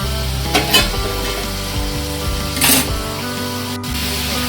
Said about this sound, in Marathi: आपला कांदा गुलाबी रंगावर परतून झालेला आहे.